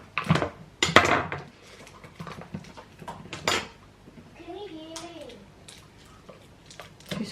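Dishes, pots and cutlery clattering and clinking in a home kitchen during washing, sharp close clanks early on, then quieter handling while a voice and adult speech come and go.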